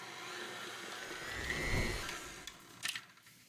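Stand mixer kneading very wet pizza dough with salt added, a steady low motor whir that swells slightly midway, with a few faint knocks and clicks near the end; no talking.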